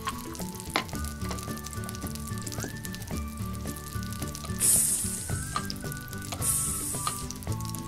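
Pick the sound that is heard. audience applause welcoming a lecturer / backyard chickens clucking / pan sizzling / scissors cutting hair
pan sizzling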